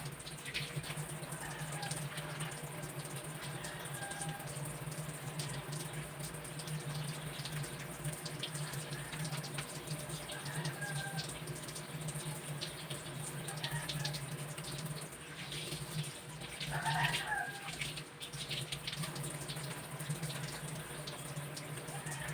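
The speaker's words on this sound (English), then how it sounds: "I am going to perform thorough hand washing to deter the spread of pathogenic microorganisms" Hands washed thoroughly under a running tap, a steady hiss of flowing water lasting the whole stretch with brief splashy shifts as the hands move through the stream; no voices.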